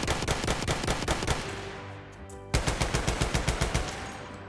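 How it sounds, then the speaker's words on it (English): Fedorov automatic rifle from Battlefield 1 fires two bursts of rapid, low-pitched chugging automatic shots, separated by a brief pause with a decaying tail, loud and close. "This firing sound is a beautiful low-pitched chugging."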